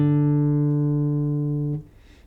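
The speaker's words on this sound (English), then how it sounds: "D is played open and sounds like this." The open D string of a guitar rings steadily on its own, loud and sustained, then is abruptly muted near the end, leaving faint noise.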